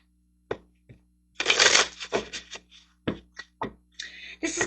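Tarot cards shuffled and handled during a reading, with crisp riffling bursts and separate slaps and flicks spaced across the moment, close and fairly loud with no talking.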